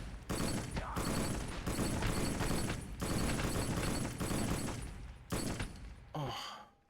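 Sustained automatic gunfire in the PS2 shooter Black, loud and close, coming in long rattling bursts separated by brief pauses before the shooting cuts off near the end.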